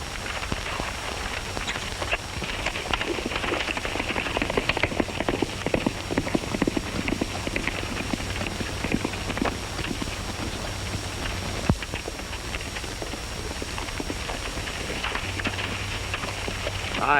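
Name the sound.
horse hooves clip-clopping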